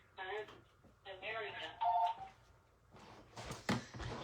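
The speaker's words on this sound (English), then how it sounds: "I hate when I get phone calls during a live." A phone rings briefly as a short steady tone during a live paper-crafting stream, quiet and set among intermittent talking and soft handling noises.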